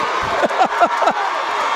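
A crowd at a 2018 Jackson Olin vs Minor high school football game roars and whoops in a loud, close burst, with a voice riding over the cheering.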